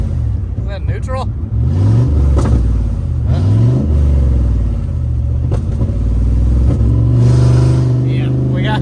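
A 1995 Chevrolet Camaro Z28 V8 engine running loud and close, its rumble rising and falling as gears are shifted, with people talking over it.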